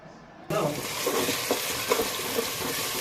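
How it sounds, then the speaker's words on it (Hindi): Tomatoes dropped into hot ghee in a pan set up a loud, steady sizzle and frying hiss that starts abruptly and continues without a break, with a few stirring knocks inside it. "टमाटर भी आप घी के अंदर डाला करें,"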